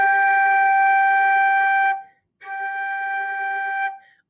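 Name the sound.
flute playing the note G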